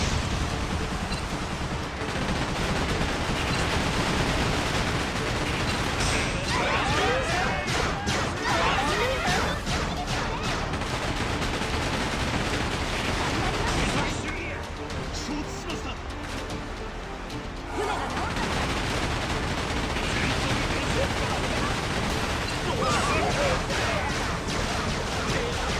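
Rockets burst in a video game with a sustained barrage of crashing, crackling explosions, louder and denser in stretches, a brief lull midway, over speech.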